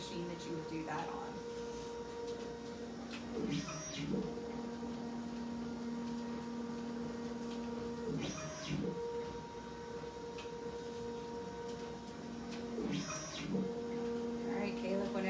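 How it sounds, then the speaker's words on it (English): A DEXA bone density scanner runs with a steady mechanical hum and tonal whine, broken every few seconds by a brief whirring shift as the scanning arm moves, a continuous medium-level drone throughout. "this is the same machine that you would do that on."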